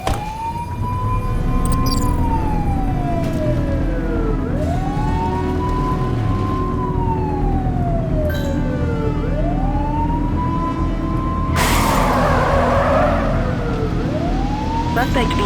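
Wailing police siren in the video game The Precinct during a pursuit of a dark van, rising and falling in long repeated sweeps over steady engine rumble, loud and close, with a burst of harsher noise near the end.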